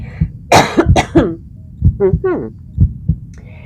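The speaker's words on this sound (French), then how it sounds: "excusez-moi, je vais tousser" Several harsh coughs in a quick cluster close to the microphone, followed by lighter throat-clearing sounds and low thumps, with no talking.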